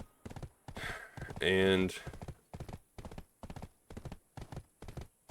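Horse hooves clip-clop in a steady, even rhythm while riding in the video game Black Desert Online, with a short stretch of talking in the middle.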